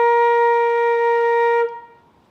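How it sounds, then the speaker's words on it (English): A single sustained flute note, a short B flat, clear and steady with bright harmonics, held for over a second and a half before quickly fading out. "And now our B flat should sound something like this."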